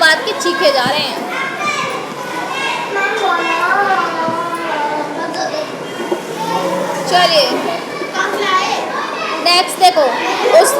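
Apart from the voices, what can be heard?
children screaming and shouting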